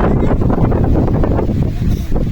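Strong gusting wind buffeting the microphone on an open mountain trail on Mount Merbabu, a loud, rumbling roar that rises and falls in heavy bursts.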